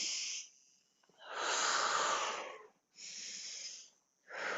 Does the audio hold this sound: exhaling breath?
yes